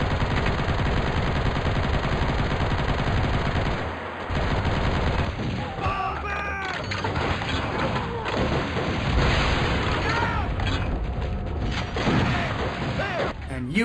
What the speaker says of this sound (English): More minigun fun, you can never be bored whipping this out.